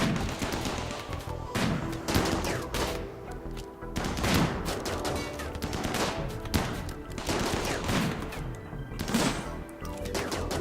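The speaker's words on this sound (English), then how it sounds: "I like how they're shooting their own friend there" Rapid bursts of gunfire from a RimWorld desert-colony raid, dense overlapping shots and volleys crackling continuously at close range with no talk.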